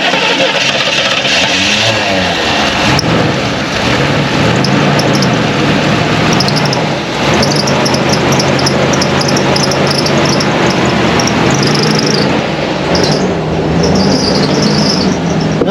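A Chevrolet Monte Carlo barn find in North Carolina runs with a loud, uneven idle, its engine skipping and stumbling in a rough rhythm for the whole stretch, up close, with faint high insect-like chirps above.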